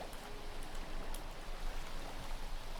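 Flowing water streams down a water slide in Minecraft, a steady, soft, hissing trickle that carries on evenly without any voices.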